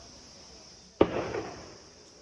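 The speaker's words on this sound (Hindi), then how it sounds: "ये फायरिंग फिर से शुरू हो चुकी है" Single sharp gunshot during an Indian Army encounter with terrorists at a hideout in Anantnag, a sudden loud crack followed by a rolling echo that decays over about a second against a steady high background hiss.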